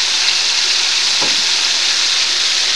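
Beef browning in a hot pan gives a loud, continuous broadband sizzle that stays even throughout, with one brief spatter partway through and no voices.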